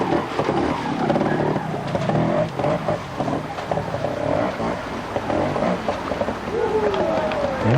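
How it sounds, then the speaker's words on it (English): Beta 250 trials motorcycle ridden through a section at a world trials round in Walker Valley, Washington, its engine buzzing and revving steadily throughout amid crowd noise and a commentator's voice. "Riding a Beta 250."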